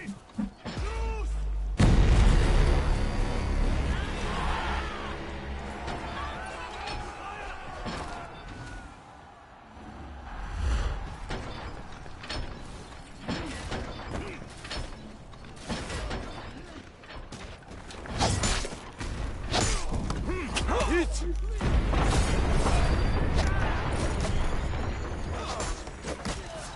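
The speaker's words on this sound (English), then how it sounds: "Inner gate destroyed." A battering ram pounds a castle gate in the medieval combat game For Honor, heavy mechanical creaks, thuds and grinding gear noises building to a loud crash amid battle clamor, with shouted voices in the mix.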